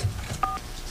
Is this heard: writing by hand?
no